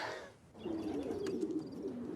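Racing pigeons coo softly nearby, a low rolling warble repeating over a faint background of light chirps, with no talk over it.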